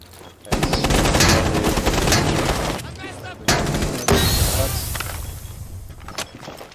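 Dense, loud rapid gunfire fills a competitive Xbox shooter match in Infamous League play, with bursts of automatic fire and booms running almost continuously and a short gap midway.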